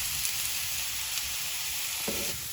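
Crushed garlic fries in a pan until golden, making a continuous, even sizzle with a brief clink near the end.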